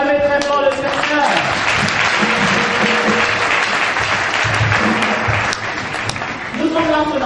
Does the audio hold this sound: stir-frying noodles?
no